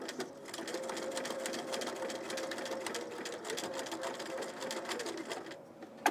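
A home sewing machine runs a steady stitching burst with a fast, even mechanical whir, fairly close and moderately loud, slowing briefly before stopping near the end.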